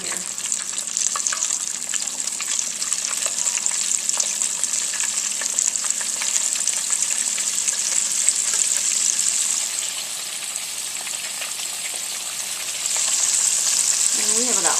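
Chicken wings deep-frying in oil that is not quite deep enough to cover them, a steady loud sizzle and crackle filling the whole stretch with little variation, about five wings in the first batch.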